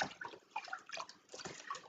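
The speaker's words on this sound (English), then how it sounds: "Squeeze all the water out" Wool nappy cover squeezed by hand in water, soft wet sloshing and dripping squelches coming in uneven bursts, fairly quiet and close, with no voices.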